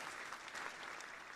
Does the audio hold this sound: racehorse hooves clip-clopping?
no